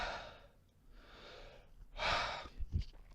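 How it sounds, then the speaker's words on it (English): Slow deep breaths, three long audible exhales close to the mic, each swelling and fading, followed by a short sniff or snort at the end. "I'm gonna have to do some breathing."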